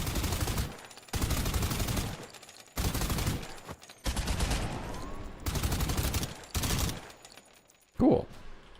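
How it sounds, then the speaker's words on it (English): Automatic weapon fire in the game Suit for Hire, heard as several loud sustained bursts separated by brief silences, followed by a short sharp sound at the end. "Let's see what it looks like with an automatic weapon"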